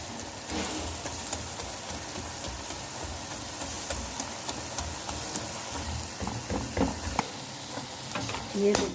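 Masala with coriander powder sizzles in a pan for a Patiala chicken dish, a steady close crackle with scattered scraping stir strokes and faint background voices.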